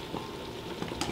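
Pulled chicken being mixed with barbecue sauce makes soft, wet squelching and light scraping, quiet and close, with a few small taps toward the end.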